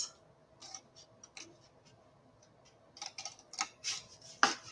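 Snips of scissors notch scored cardstock for a small stamped paper box, a few quiet cuts at first, then a cluster of sharper, louder crisp snips near the end.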